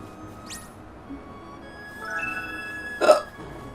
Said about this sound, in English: Also, hiccups.